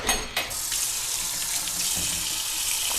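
Water gushes steadily into a kitchen sink as a pot of cooked pasta is drained, a loud, continuous splashing rush with a couple of sharper pours at the start.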